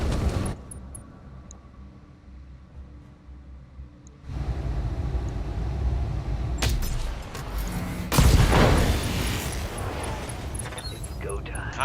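BattleMech weapons fire in the Battletech game as lance mechs concentrate fire on an Urbanmech. After a quieter stretch, loud blasts and roaring volleys start abruptly and pile up in heavy bursts, with a voice heard in places.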